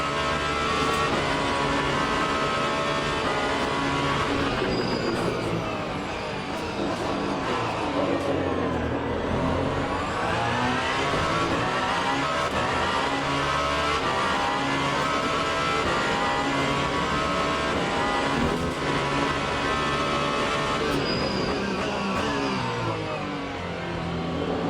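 A GT race car engine in the Le Mans Ultimate racing game drones continuously for about twenty-five seconds, revving up and down through gear changes, loud and steady with no speech.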